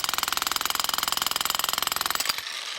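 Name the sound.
cheap Amazon demolition hammer (jackhammer) breaking rock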